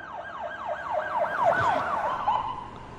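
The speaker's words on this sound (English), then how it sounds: "When you hear the sirens." Ambulance siren wailing in repeated rising and falling sweeps, loud and close, with no voices.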